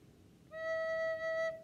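One sustained, pure recorder tone, the note E, slightly lower in pitch, held evenly for about a second in a quiet room.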